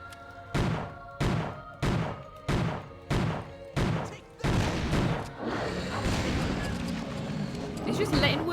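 Grenade blasts in the horror video game ObsCure land as a rapid series of six heavy booming thumps about half a second apart, followed by a rumbling, noisy wash of game sound.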